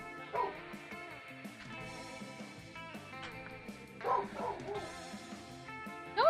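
A small dog barks and yips in short bursts, a few separated outbursts with whiny, pitched tones, heard fairly close over faint background music during a gaming session.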